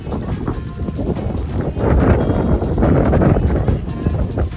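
Strong wind gusts across a mountaintop at Chilmiri, Chakrata, battering the microphone with a loud, continuous rumble that swells and surges, with no talk.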